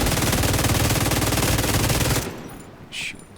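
Automatic gunfire from a shooter game, The Division 2, rattles in a loud continuous burst for about two seconds, then cuts off, followed by a brief high electronic tone.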